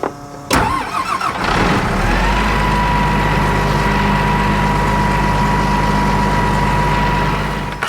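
An engine cranks and catches, then holds a loud, steady run with the air conditioning on full during wheat harvest; a continuous close rumble with a constant whine, and no voices.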